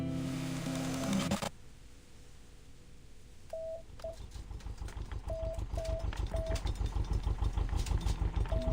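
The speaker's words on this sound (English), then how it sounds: "A two-stroke diesel engine sputters." A two-stroke diesel engine from the game Reverse: 1999 starts up after a loud burst of noise cuts off, then sputters into a fast, even chugging that grows steadier and louder, with short electronic beeps sounding intermittently over it.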